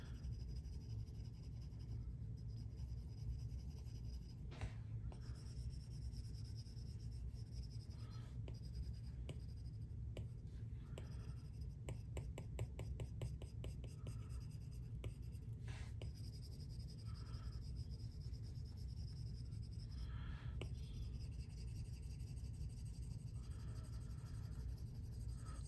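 A stylus scrapes and rubs steadily across a tablet screen while smudging a drawing in Procreate, soft continuous friction strokes with occasional quick taps and bursts of rapid back-and-forth scribbling, close and alone.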